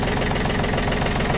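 A small Japanese tractor engine idles close by, a steady, even diesel chug with a knocking rhythm and no pauses.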